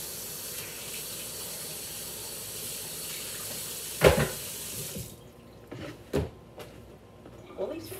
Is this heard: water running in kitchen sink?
yes